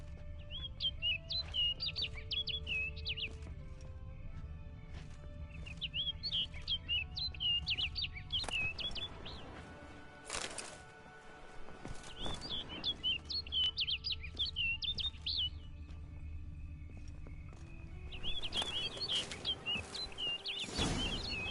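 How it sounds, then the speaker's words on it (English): Repeated bird chirps and tweets from a game world in Witcher 3: Blood and Wine, in short bright bursts over a steady ambient bed with a faint low hum and tones, the calls returning in clusters every few seconds. "Looks like the bird's leading me somewhere."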